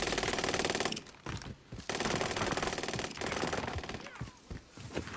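Rapid bursts of enemy automatic gunfire in Call of Duty: Warzone Pacific, loud sustained rattles broken by short pauses, with several sharper shots near the end and no talking.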